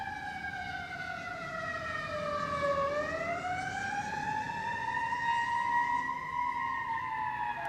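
A fire engine siren wails in a long rising and falling sweep, dipping and climbing again as it passes at moderate distance, heard alone over faint street background.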